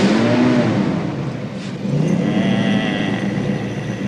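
A car engine rumbles and revs while warming up, loud and close, its pitch rising and falling over a continuous droning tone.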